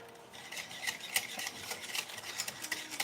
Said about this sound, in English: I think I'm going to break out a whisk.